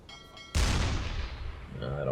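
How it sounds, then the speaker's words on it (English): A submarine deck gun fires at a distant U-boat in the simulator game UBoat, one sudden loud boom that rolls away into a fading rumble, with a voice talking faintly underneath. "Kohler is now automatically firing at said U-boat in the distance"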